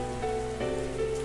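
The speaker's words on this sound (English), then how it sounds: "It's raining again." Steady rain falls in a video game scene, an even hiss of drops on a surface with a soft tonal music bed underneath, moderately quiet and without voices.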